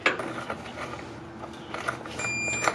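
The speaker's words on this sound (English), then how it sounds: "let's torque her down" A torque wrench tightens driveshaft yoke bolts on a Jeep Wrangler with an upgraded Rough Country double cardan driveshaft, giving a series of close mechanical ratchet clicks and clacks. A thin electronic beep tone sounds near the end, and no one speaks.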